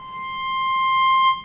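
A single note C played with an extended fourth finger, a clean, steady sustained tone lasting about a second and a half, heard alone.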